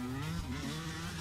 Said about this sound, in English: I really hate that kind of motorbike.